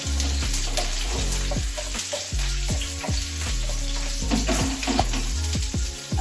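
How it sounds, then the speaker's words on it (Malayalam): Dried red chillies frying in oil over a low flame, a constant close sizzle with repeated scraping stirs against the pan. "അപ്പൊ നമുക്ക് ഇനി വറ്റൽമുളക് അതിലേക്ക് ആഡ് ചെയ്യാം"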